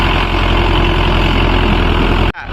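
A Mahindra Yuvo Tech Plus 585 tractor pulling a cultivator in two-wheel drive on farmland gives a loud, heavy, steady engine roar up close that cuts off abruptly near the end.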